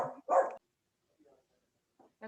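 Dogs bark twice in quick succession at close range, followed by a few faint yips and quieter sounds before another bark starts at the end.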